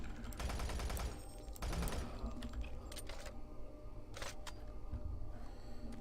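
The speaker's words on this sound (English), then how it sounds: "Having a shootout with a guy with a shotgun." Shotgun blasts and gunfire ring out in a firefight in the video game DOOM 3, several sharp loud bursts at irregular intervals with clicks and mechanical clatter between them, no voices.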